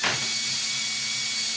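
Power drill whining steadily as it bores into plywood close to the edge of the board during a miter saw station build, loud and close, a constant high motor pitch with no talking.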